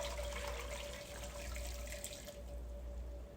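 Turkey broth drains from a pot in a steady, close pour of liquid, a continuous splashing flow with a faint tonal ring underneath, tapering slightly toward the end with no talking.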